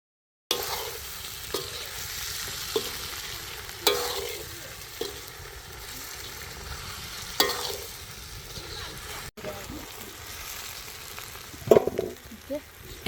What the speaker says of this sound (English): added in the cooked and peeled potatoes. We mixed them well until all the masala had coated all the potatoes